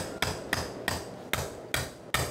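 Repeated hammer blows drive a box cutter into bone during sacroiliac joint fusion surgery, six or so hard, ringing metallic knocks spaced evenly and heard close up with no talk.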